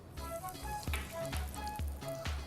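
Mustard seeds crackle and sizzle in about two tablespoons of hot oil in a pan, a steady fry broken by several louder popping bursts at irregular intervals, close and continuous with no talk.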